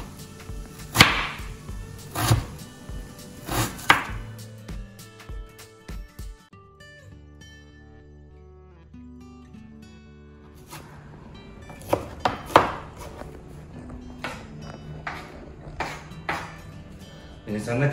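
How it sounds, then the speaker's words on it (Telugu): Food is finely chopped with a knife on a board while cooking chicken fry. A few sharp knocks come at first, then a pause with talk, then a quicker run of chops while a voice speaks over them. "దీన్ని సన్నగా చాప్ చేసుకోండి."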